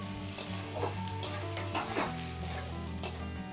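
Steady sizzling of garlic and onion frying in hot oil, with occasional stirring scrapes and clinks of a utensil against the pan, close and continuous.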